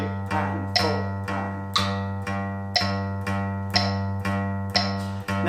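An electric guitar picks a low G note over and over in a steady, even eighth-note rhythm, bright attacks on each stroke, loud and without talking.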